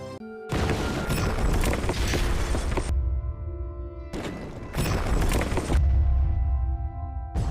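The atomic bomb detonating over Hiroshima, a loud, broad roaring blast that bursts in abruptly, rumbles on with a dense low boom, briefly drops to a lower tonal rumble, then surges back in a second heavy wave.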